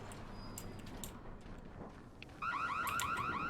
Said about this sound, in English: I believe that's a security alarm in there